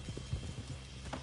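Horses clip-clopping in the Red Dead Redemption 2 video game, with soft, close hoofbeats in an uneven walking rhythm and a faint snort near the end, without any talk.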